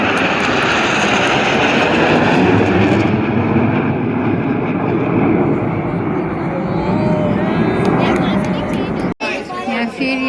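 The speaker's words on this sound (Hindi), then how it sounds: "यहाँ फेरि आएको छ जहाज" Military aircraft passing over a Republic Day parade in India: a loud, sustained jet engine roar that swells and holds for most of the stretch, then drops off suddenly, with crowd babble and voices mixed beneath.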